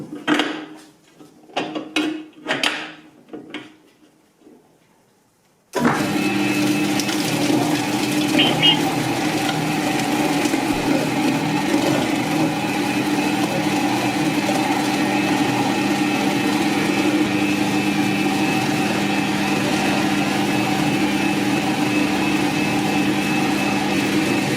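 A butcher's bowl cutter starts up and runs steadily, chopping sausage meat with speck and ice for wieners, a loud continuous mechanical whir and drone following a short stretch of quiet talk.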